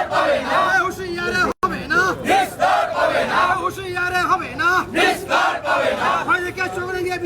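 A street protest march at Marapora Choupati in Cooch Behar, against an attack on a BJP state president's convoy. Many voices shout and chant together in a loud, close crowd, with rhythmic slogan calls over dense chatter.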